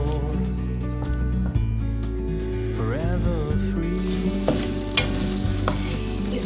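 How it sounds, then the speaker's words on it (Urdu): Chicken karahi frying and being stirred in hot oil or ghee, with a steady dense sizzle and repeated scraping stir strokes throughout, loud and close, with no talking. "اب میں اس کو بھونوں گی."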